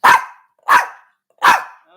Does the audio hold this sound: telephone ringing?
no